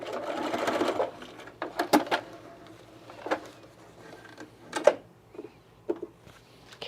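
Sewing machine stitching fabric in short bursts, with one longer whirring run at the start followed by several brief stitching spurts and clicks separated by pauses, close and fairly loud.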